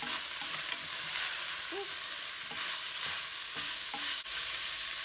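Onions in olive oil being stirred in a hot pan, a continuous hissing sizzle with occasional scrapes and clicks of the utensil, close, with a brief exclamation from a voice.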